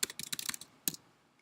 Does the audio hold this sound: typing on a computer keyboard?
yes